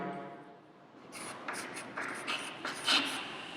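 Pen or marker writing on paper, close and quiet, a series of short scratchy strokes and taps in an uneven rhythm.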